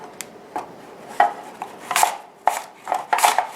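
Apples being sliced into thin petals with a knife, a quick irregular series of crisp cuts and taps on a board, close and clear, with no talk.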